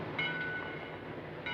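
Train at a railway station in a 1949 film, a steady rumbling hum of rolling stock with brief high squeal tones, no talk over it.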